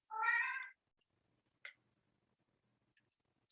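A single clear cat meow, loud and close, followed by a few short faint clicks and ticks in otherwise near silence.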